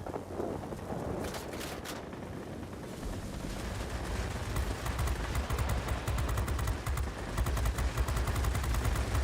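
Rapid automatic gunfire from a Reggiane Re.2005 Sagittario fighter in World of Warplanes, with sustained bursts over steady engine and wind roar, loud and continuous throughout.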